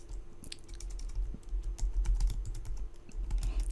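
Rapid keystrokes on a computer keyboard, close and steady, tapping out words in irregular bursts with no talk.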